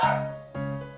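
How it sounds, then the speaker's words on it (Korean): Pet dogs let out two sharp, close yips or barks in a small home, each with a whiny tonal edge. A short gap separates the barks. "저희 강아지들이"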